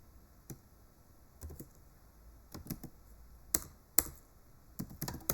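Python code is typed on a computer keyboard in short, irregular bursts of crisp key clicks with brief pauses between them. The keystrokes are close and clear against a quiet background.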